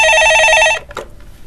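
A telephone rings for a caller phoning in to a stock-market radio show: one loud, bright electronic ring lasting under a second, then a brief click as the line picks up, and quiet after.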